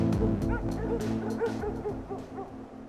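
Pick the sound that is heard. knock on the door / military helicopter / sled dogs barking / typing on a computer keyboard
sled dogs barking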